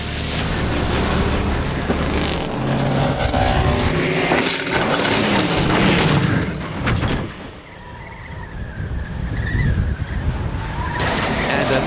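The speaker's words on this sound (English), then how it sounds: "another Mythbusters experiment ends with the reassuring sound of rending metal" Car crash in a Mythbusters experiment: loud engine roar and tire skidding build to a sharp, crunching burst of rending metal, then fade to a quieter, scraping aftermath.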